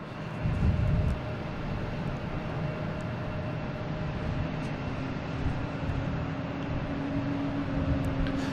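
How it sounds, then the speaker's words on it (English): Aeromexico Flight 640 from Mexico City, a jet airliner arriving at Boston Logan airport, gives a steady broadband engine roar with a low whine. It sounds moderately distant and continuous, mixed with constant HVAC hum. "we have Aeromexico Flight 640 coming in from Mexico City"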